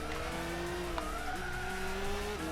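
Gran Turismo 6 race car on PS3 in a GT300 championship, braking hard into a corner, with a steady loud engine note that drops and shifts pitch as it slows, plus faint tyre noise and no talking.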